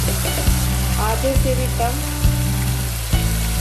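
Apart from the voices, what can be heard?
boneless chicken frying with spices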